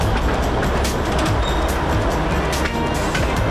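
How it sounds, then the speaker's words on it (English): A Russian locomotive runs through a Vietnamese rail factory with a steady, loud rumble of engine and wheels, marked by faint clicking and rattling along the track, with no voices over it. "I'm jumping on this Russian locomotive with Mr. Vin, who's doing the rounds of the factory"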